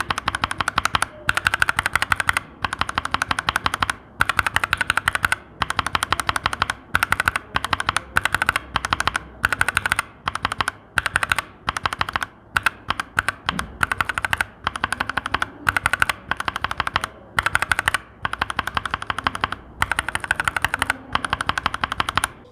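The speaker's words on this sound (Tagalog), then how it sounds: "So kamusta naman yung sound pag Jelly Pink versus yung POM switches." Rapid clacky typing on an Akko 3068S mechanical keyboard, moving between Jelly Pink and POM switches. Dense, steady bursts of keystrokes sound close and loud, with brief pauses between runs and no talking.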